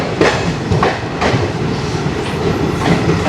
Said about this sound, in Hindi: अच्छा खासा एक्सेलरेशन ट्रेन को प्लेटफॉर्म से देखने को मिल गया।